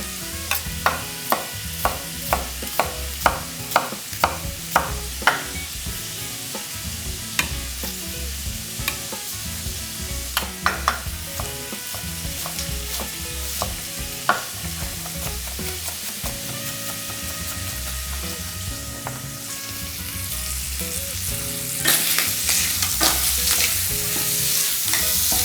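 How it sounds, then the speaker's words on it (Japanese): Bacon and onion stir-fry in a pan with a continuous close sizzle punctuated by regular sharp taps and scrapes of a utensil, the frying growing louder and hissier toward the end, with no talking. "さあこのベーコンをですね、程よくカリッと仕上げていきます。"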